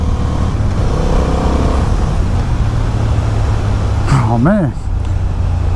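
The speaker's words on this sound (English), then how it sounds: "I'm so happy to be riding this bike" A 2023 Honda Hornet motorcycle is ridden at speed with a steady engine drone and heavy wind rush, then a brief rising and falling rev near the end, while the rider speaks.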